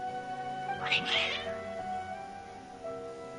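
Cats meow and caterwaul in Genshin Impact gameplay, a short agitated burst of cries near the start over quiet game ambience and a faint voice.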